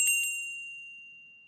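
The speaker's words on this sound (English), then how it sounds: "It was the dining room bell that was going off." A dining room bell rings twice in quick succession, then leaves a clear, high tone that slowly fades over the quiet of an office.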